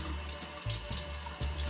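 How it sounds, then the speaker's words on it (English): A kitchen water tap runs into a sink, a steady close splashing stream with slight changes in tone as the flow hits the basin. "Water on."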